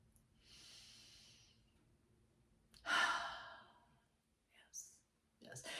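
A person draws slow, deep breaths, with a long soft exhale followed by a louder, fuller breath, then quieter sniffs and another breath. All of it is close and fairly quiet, with no talking.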